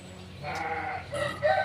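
A sheep bleats in a short, wavering call, pausing briefly before a second bleat, fairly close against a faint background hum with no talking.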